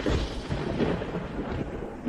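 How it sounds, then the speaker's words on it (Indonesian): A heavenly thunder strike effect booms loudly and deeply, a sustained rolling crash with a faint rain-like hiss underneath, no speech. "Guntur langit jatuh"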